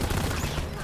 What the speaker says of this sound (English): Something's shooting.